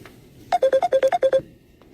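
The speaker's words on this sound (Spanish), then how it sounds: "está tremendo ese teléfono, es el mío" A mobile phone ringtone goes off during a speech by Javier Milei at the Inter-American Development Bank: a loud, quick run of about nine bright electronic beeps, alone and close, then it stops.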